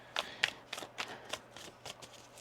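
Tarot cards being shuffled up close, a quick run of crisp riffling snaps and soft flicks, about nine or ten in irregular rhythm, fairly faint and with no voices.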